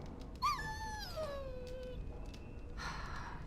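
A dog whimpers in the video game Dragon Age Origins, a high, wavering whine that slides downward over about two seconds, with a soft breathy sound following, fairly close and alone.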